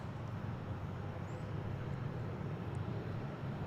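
Steady, broadband roar of aircraft engines heard from a roadside next to runway 36R at DFW International Airport on a morning with north flow, continuous and fairly loud throughout with no speech.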